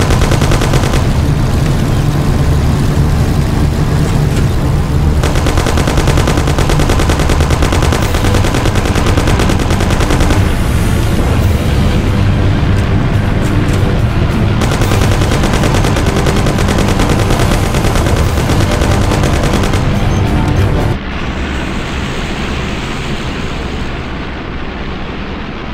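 Heavy gunfire in the video game Mafia: dense, relentless bursts of machine-gun and rapid shots with blasts mixed in, loud and close throughout, easing slightly near the end, with no talk.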